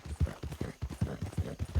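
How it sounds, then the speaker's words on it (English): Rhythmic clip-clop of horse hooves at a steady trot while riding in Red Dead Online, close and clear, with no talking. "I'm riding my horse."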